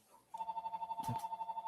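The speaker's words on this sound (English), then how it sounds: "is that a house phone going off like in the year 2026?" A house phone rings close by with a rapid, warbling electronic trill pulsing evenly, starting abruptly after a short quiet moment, with a brief muffled knock partway through.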